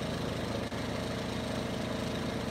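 A generator engine idles close by with a steady, rhythmic low chugging, loud and constant with no voices, as it runs.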